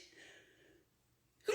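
A single sneeze, short and fairly close, breaking a quiet moment near the end after a faint breathy stretch.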